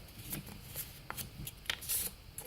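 Paper squares, four-inch sheets handled two at a time, are folded in half for flower making, giving soft intermittent rustles and crisp creases close up, quiet and without talk.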